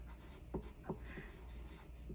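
A pencil writing a name on paper in a kindergarten classroom, soft scratchy strokes with a few slightly firmer taps, faint and close against a quiet room hum.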